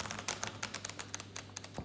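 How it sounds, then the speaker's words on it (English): Playing cards being shuffled, a quick run of crisp riffling flutters and taps, close and quiet, with no talking. "I'm shuffling the cards once again"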